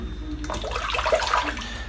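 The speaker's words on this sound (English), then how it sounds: "rinses off really easily in the sink" Running water from a sink tap rinsing shaving soap lather away, a steady close splashing rush that thickens midway through.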